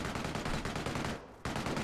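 A machine gun lays down suppressing fire in a World War II strategy game, a dense, rapid rattle of shots with a brief pause before the burst resumes.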